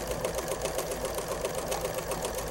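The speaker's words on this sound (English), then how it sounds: "I'm going to sew a couple of rows" A home sewing machine runs rows of triple needle stitching, a continuous fast, even whirring drone that is loud and close, with no pauses.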